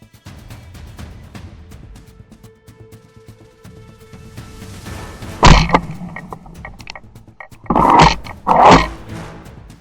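Hunting hounds attacking a wild boar in a swamp, with steady low rumbling and growls through the first half, then loud sudden bursts of barking and snarling near the end.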